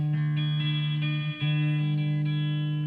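Electric guitar with a slightly out-of-tune G string and vintage tuners, sustained chords ringing with a strong low tone, re-struck a few times with one short break in the middle, played through effects.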